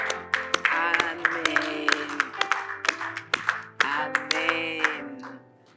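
A congregation claps along during a French-language church message, sharp handclaps in an irregular rhythm under loud voices and cheering, with a voice calling out over them.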